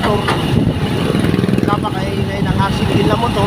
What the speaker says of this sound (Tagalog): napakaingay ng single na motor